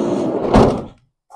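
A sliding side door on a 2012 Mercedes Sprinter van rolls along its track and shuts with a single thud, followed by a short faint knock.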